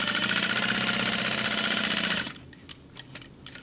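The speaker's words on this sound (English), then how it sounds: "I'm starting at the top, back stitching, and I'm going down one side, across the bottom" Sewing machine back stitching along a fabric tab on a small backpack, running loud and steady with a fast rhythmic whir before stopping abruptly, then a few faint clicks and handling noises.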